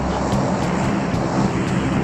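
An airplane engine drones overhead in PUBG Mobile, a loud, steady, rough roar that holds for the whole short stretch with no speech.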